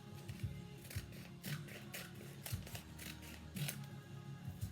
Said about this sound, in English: What I also do is cut off the half circle at the top of the bag.